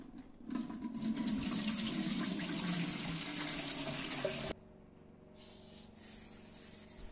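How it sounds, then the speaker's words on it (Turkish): Running water pours steadily over soaked pumpkins being rinsed of baking soda, a loud continuous gush like a tap into a sink for about four seconds, then stopping abruptly into quiet room tone. "Akşamdan beklettiğimiz kabaklarımızın karbonatını 2-3 defa yıkadım."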